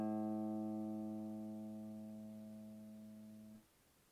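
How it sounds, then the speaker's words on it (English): A single guitar A fifth string is plucked and left to ring, a steady harmonic tone fading gradually for over three seconds before being cut off, with no talking. "The 5th string is the A string."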